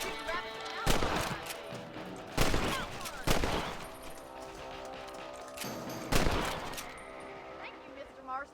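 Rifle shots aimed at rabbits in Red Dead Redemption, several sharp loud cracks at irregular intervals over a layer of game music and ambience.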